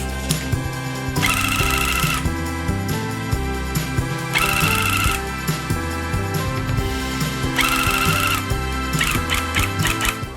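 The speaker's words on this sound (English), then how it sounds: "The tufting starts now." A handheld tufting gun punches yarn into a rug in repeated bursts of rapid mechanical buzzing, several seconds each, separated by short pauses, loud and close with no talking.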